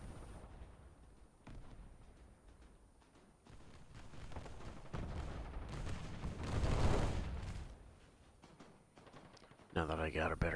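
Gunfire and booming explosions from the War Thunder video game swell into a dense, loud barrage and then ease off, heard alone without talk.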